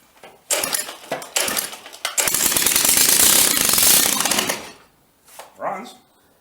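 A tractor engine sputters in short bursts, then runs steadily with a rapid, loud, rattling pulse for about two seconds before dying away, with brief talk around it.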